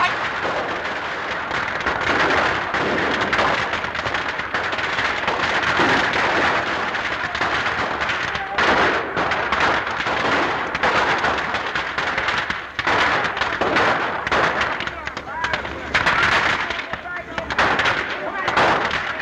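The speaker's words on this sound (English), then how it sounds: "Machine gun, huh?" Machine gun fire in an old Charlie Chan film rattles in long, loud, sustained bursts, a dense, crackling barrage that barely lets up, with voices faintly mixed in.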